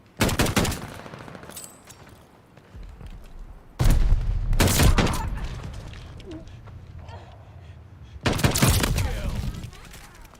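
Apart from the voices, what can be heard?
M1916 gunfire in video game Call of Duty Vanguard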